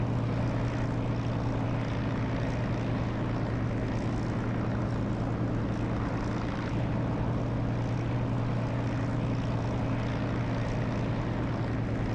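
An enemy A-20 bomber in the DCS flight simulator drones overhead, a steady propeller-engine hum that holds at an even level throughout with no talking.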